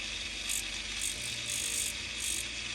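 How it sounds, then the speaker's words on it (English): Rotary tool with a fine silicone wheel grinding flashing off an acrylic casting pattern of a Porsche 911 Dakar, a steady high whine with pulsing bursts as the wheel presses on the piece, close and continuous, no talking. "I'm gonna try to show you how I do the removal of the flashing, and hopefully the sound of this machine isn't too annoying"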